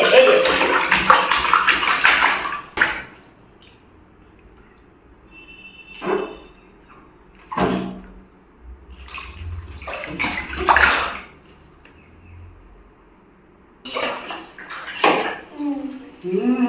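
Splashing and sloshing of bathwater as a baby bathes and plays in a bathtub, coming in bursts between stretches of quiet, with adults talking over it at times.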